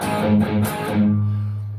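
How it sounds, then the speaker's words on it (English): Chunky, distorted palm-muted guitar chugs on the low open A string, a few tight hits that end in a short ringing low note, close and loud. "Open A palm mute once. Sounds like this."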